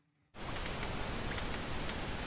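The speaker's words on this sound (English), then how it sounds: "So it's just, white noise." Steady broadband white noise from a synth plugin switches on abruptly after a brief quiet moment, then holds at an even, hissing level throughout with no voice over it.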